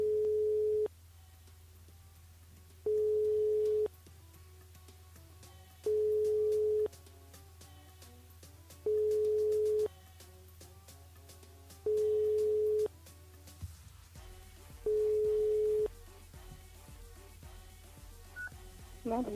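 Telephone ringback tone on an outgoing call placed live on a radio show, six evenly spaced long beeps about a second each with steady pauses, over a faint hum.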